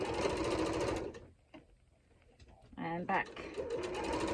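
Sewing machine stitching lace onto a decorative envelope cushion, loud steady whirring that stops, then a short burst of reverse stitches before the motor runs again, with someone briefly speaking.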